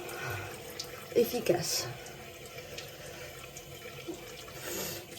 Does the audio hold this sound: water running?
yes